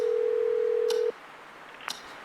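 A telephone ringing in the horror adventure game Scratches: one long, steady electronic ring tone that cuts off abruptly, followed by faint clicks in near silence.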